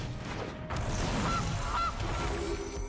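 Goose honks from the Gilded Goose card in the Magic video game: two short nasal calls over a busy, steady game backdrop.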